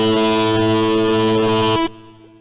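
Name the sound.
Korg Kross organ sound with overdrive distortion effect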